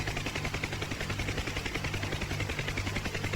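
A UH-1 Huey helicopter in DCS World hover taxiing down a taxiway, a steady, loud rotor thump with low engine drone and a rhythmic blade chop running throughout, no talk.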